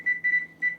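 A kitchen timer set for a simmering ground beef stew sounds three clear electronic beeps, two short and one longer in an uneven pattern, close and fairly faint, with no talking over them.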